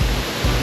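Waterfall at a scenic spot in Nebraska, a steady broadband roar of falling water close by, loud and continuous with no voices over it.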